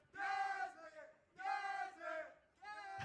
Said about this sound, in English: Still getting the cheer.